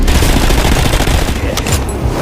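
Dense rapid gunfire from a war video game trailer, a loud continuous burst of shots rattling throughout with no pauses or talk.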